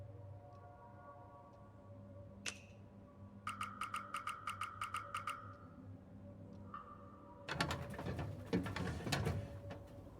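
Birds in the As Dusk Falls video game give a quick run of repeated chirping coos, then a brief rustling burst, all fairly quiet with no speech.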